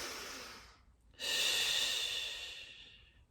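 Slow, deep breaths during a beginner Pilates side stretch, close and audible: one long exhale, a short pause, then a strong inhale that tapers off gradually.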